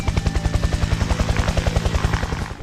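Rapid, loud, rhythmic thudding of rotor blades from a large helicopter converted into a drone with the Aurora Flight Sciences AQ control system, chopping steadily at close range.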